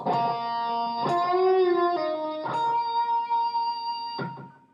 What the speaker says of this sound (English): So we're going to do a little bend from the 10th fret, just up a semitone, release it